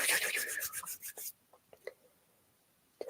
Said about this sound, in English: And then rubbing your hands together